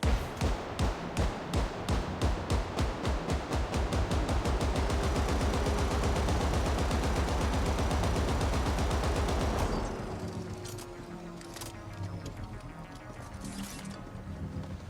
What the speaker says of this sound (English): A literal machine gun shotgun.